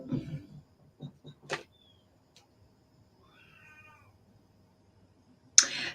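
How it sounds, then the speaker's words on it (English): A cat in the background meowing a few times while playing with a toy, short close cries early on, then a quiet stretch with faint sounds and a sharp noise at the end. "Ignore the cat in the background. He's playing with a toy."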